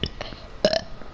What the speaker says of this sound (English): I can burp whenever I want to